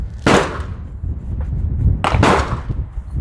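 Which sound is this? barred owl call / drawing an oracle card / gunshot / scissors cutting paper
gunshot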